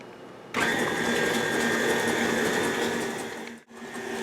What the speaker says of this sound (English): I'm going to turn back on the mixer and add the eggs one at a time.